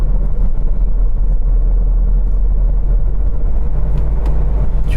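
Steady road noise and engine rumble from a car cruising at about 70 km/h on the Delhi-Meerut Expressway, loud, continuous and low-pitched from inside the vehicle.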